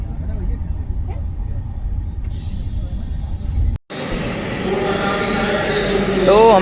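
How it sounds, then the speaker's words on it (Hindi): Indian Railways 12445 Uttar Sampark Kranti express running at night from Delhi towards Jammu Tawi: a steady close rumble and rattle of a moving coach, cutting out briefly then returning louder, with a rising squeal near the end. "पूरी ट्रेन चली"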